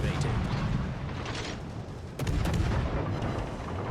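Heavy naval cannon fire from warships in World of Warships Legends, with deep rumbling booms and a sharp salvo near the midpoint, set against dense continuous battle noise.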